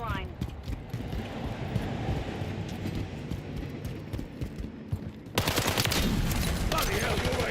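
Rapid gunfire in the video game Call of Duty: Modern Warfare III on the Tokyo multiplayer map, with dense bursts of automatic shots that turn louder and denser toward the end, mixed with game voices.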